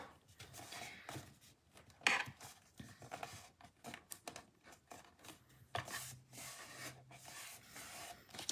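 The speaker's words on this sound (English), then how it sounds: "Now I'm gonna have to trim the top of this" A paper MemoryDex card is trimmed across the top, giving quiet scraping and rubbing cuts in short irregular bursts, close by with no talk.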